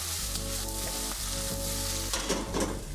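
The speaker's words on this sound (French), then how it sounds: "On va remuer un petit peu nos choux Bruxelles." Brussels sprouts are stirred in a hot pan, sizzling and frying loudly and close, with scraping stir strokes over a continuous crackling hiss.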